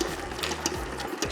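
A small dough kneading machine churns pandoro dough with a steady motor whir and soft rhythmic thumps, heard close and alone.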